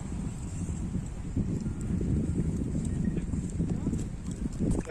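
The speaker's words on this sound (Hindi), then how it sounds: "चेतक नामी घोड़े पर सवार नायक पुरुषोत्तम आगे बढ़ रहे हैं।" A horse named Chetak carries a rider forward at a Rajouri Day ceremony, its hooves clip-clopping steadily at moderate loudness under continuous crowd noise and a public-address voice.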